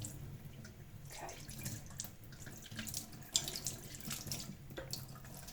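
Tap water runs steadily into a pot at a kitchen sink, a continuous close rushing splash with small shifts in pitch as the pot fills, heard alone without talk.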